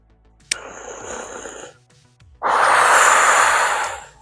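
Two long audible exhalations through the mouth during yoga shoulder circles, the first softer and the second a fuller, louder breath, both close with no talk.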